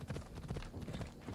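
A horse's hooves clip-clop at a steady trot in Assassin's Creed Odyssey, quiet rhythmic thuds over low game ambience, with no talk.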